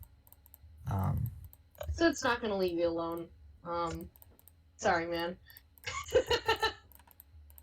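Rapid clicking of keys on a computer keyboard during a Pathfinder tabletop game session, rattling beneath and between stretches of close conversational talk.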